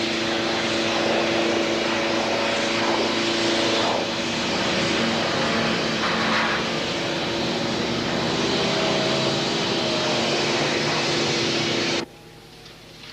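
Steady broad roaring hiss of an airliner being de-iced before takeoff on the Potomac flight, with a heavy constant engine drone beneath; the rush holds evenly for about twelve seconds, then drops away abruptly to quieter cabin hum.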